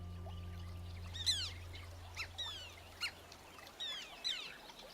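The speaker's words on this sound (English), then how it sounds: "The lonely chicks even beg for food from unrelated terns flying above." Tern chicks in shallow Mekong waters in Cambodia beg for food from adult terns flying above, giving a series of sharp, high, squeaky calls in short bursts over steady low background hum.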